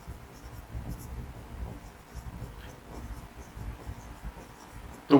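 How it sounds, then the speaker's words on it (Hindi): Chalk or marker writing on a board during a classroom lecture, with soft intermittent scratching strokes and faint room noise throughout. "इसको मैं हिंदी में लिख देता हूं"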